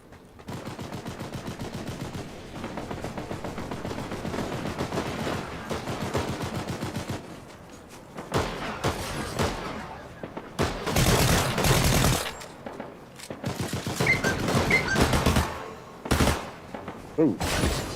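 Fortnite gunfire: after a stretch of steady rapid automatic fire, loud bursts and single heavy shots crack out in irregular clusters, some very close and sharp, with brief pauses between volleys.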